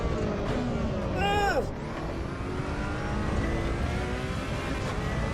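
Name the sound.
car engine driving in Assetto Corsa EVO racing video game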